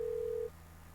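Steady electronic ringback tone of a phone call in the Doki Doki Salvation Remake visual novel, a single continuous beep lasting about half a second then cutting off over faint background music.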